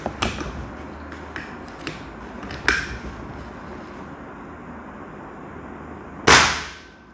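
Air rifle shots from a Kral Puncher Nemesis firing Pro Magnum pellets: several faint snapping cracks early on, then one loud sharp report near the end with a brief decaying tail, no voices.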